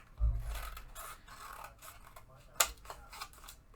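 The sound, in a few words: cutting something out, likely with scissors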